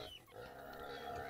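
Healthy pigs on a small backyard farm grunt and snuffle steadily in a pen, a continuous close murmur of low oinks with no talk.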